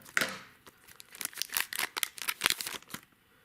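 Scissors snip open a 1st Edition Fossil Pokemon card pack, a run of close, crisp cuts and crinkling foil that come in uneven bursts over a few seconds with no talking.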